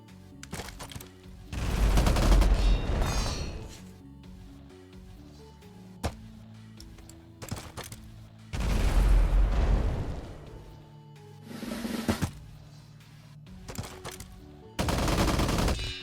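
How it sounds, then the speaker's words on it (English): Grease gun submachine guns firing in the strategy game Empires Shall Fall: several loud bursts of rapid automatic fire a few seconds apart, with scattered single sharp shots in between. "I do like those grease guns."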